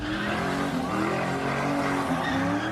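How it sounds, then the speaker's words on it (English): Car tires screech and skid at an Oakland street sideshow, a loud, sustained squeal with engine roar running throughout, close by and continuous. "You can still hear tires screeching as he lies motionless on the sidewalk."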